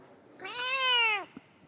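A pet cat named Barsky lets out a single drawn-out meow, close and clear, lasting under a second, followed by a faint click.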